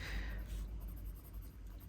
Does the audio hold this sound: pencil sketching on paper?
yes